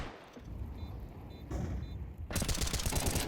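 Pistols fire in a Counter-Strike 2 esports match between G2 and ENCE: quiet background shots and game noise, then a dense, crackling flurry of rapid gunfire in the final second.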